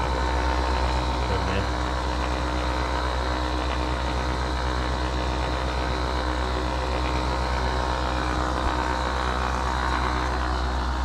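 A ball launcher machine with spinning wheels, found at a car boot sale, runs with a steady, loud mechanical hum and whir that holds constant and unbroken throughout.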